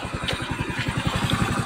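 A Honda Vario 110 carburetor scooter engine idles nearby with a steady, rapid putter of even pulses, close and moderately loud.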